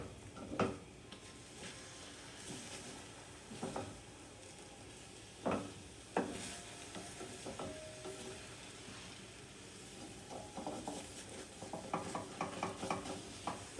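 Eggs with ham and cheese scramble in a pan, a soft background sizzle broken by scattered scraping and tapping strokes of a utensil, some sharper clicks toward the end, quiet and close with no voices.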